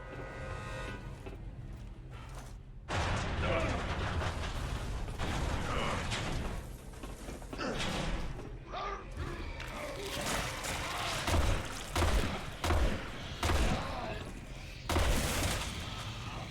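Gunfire in Resident Evil 6 against an ogre-type enemy: repeated loud bursts and thuds across a dense, busy game soundscape, with impacts and mechanical clanks, a voice talking over parts of it.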